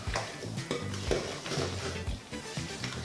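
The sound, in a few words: stirring and mixing a wet mixture in a bowl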